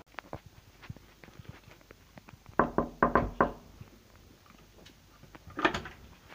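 A door is shut and a chain latch is fitted, with a cluster of sharp knocks and rattles in the middle and another burst near the end, over faint background handling noise.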